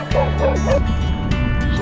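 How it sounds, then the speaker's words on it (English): A dog in Mississippi chasing a cyclist, giving a few quick high yips and bow-wow barks up close, then breaking off, with a voice briefly heard alongside. "See, another polite Mississippi dog."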